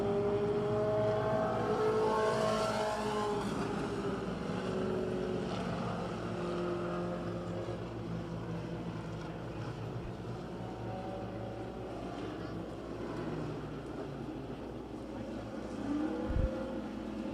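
Pure Stock 4-cylinder race cars roar around County Line Raceway, a blend of droning, rising and falling engine notes from several cars passing at a distance, steady throughout with a brief knock near the end.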